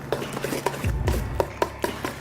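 Pasta being stirred together with mascarpone and eggs in a bowl, with close, irregular clinks and taps of a utensil against the dish and a soft, low squelching churn in the middle, no voices.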